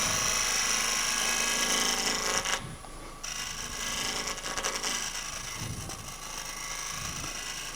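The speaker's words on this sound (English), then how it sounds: "put the scraper at about 45 degrees and run it across" Hand scraper drawn across wood at about 45 degrees, cutting fine shavings, a steady close rasping scrape that runs through most of the stretch with one brief pause.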